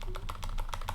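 Rapid typing on a computer keyboard, a quick run of distinct clicky keystrokes heard close and alone.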